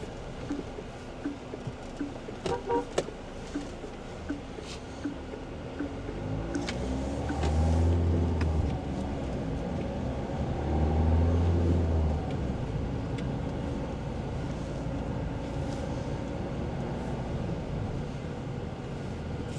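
A Mahindra XUV700 with the 2.2L diesel engine and a manual gearbox heard from inside while driving: a steady low engine drone and road rumble that swells briefly twice, with some wind noise.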